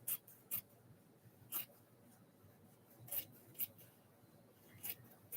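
Scissors snip through quilt batting in short, crisp cuts, about eight quiet snips spaced unevenly against a soft room background.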